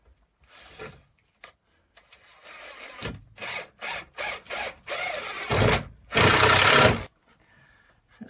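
A screw driven into a fitting in a boat shower room with a power drill, heard as a series of short whirring bursts that grow louder and end in one long, loud burst.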